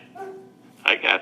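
Pet dogs at home give a whiny yelp followed by two sharp, close barks, loud against a quiet room.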